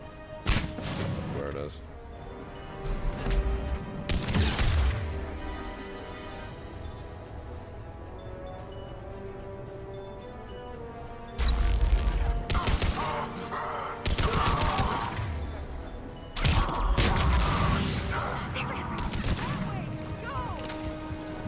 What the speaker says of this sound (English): I can hear a turret, rather unfortunately.